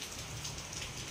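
Steady rain falls outdoors, a continuous even hiss of drops on surfaces with no pauses, fairly close and alone without voices.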